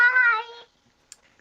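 A cat gives one short, close meow with a clear tone that fades after about half a second, leaving near silence broken by a couple of faint ticks.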